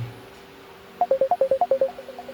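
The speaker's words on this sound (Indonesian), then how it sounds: "Ntar ya, ada telepon ntar." A phone ringtone sounds during an incoming call, a quick string of about ten bright electronic beeps in a rising and falling melody, fairly loud and close, over a low steady hum.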